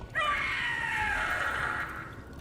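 A Gloomhowler creature in Dragon Age: The Veilguard lets out one long, shrill scream lasting about two seconds, loud and close, with a slightly warbling tone before it fades.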